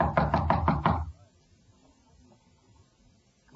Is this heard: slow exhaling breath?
no